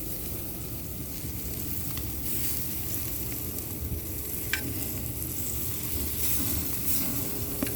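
Chicken thighs sizzle and crackle steadily on a kamado ceramic grill as they are flipped, a loud continuous frying hiss with a few sharper pops and scrapes.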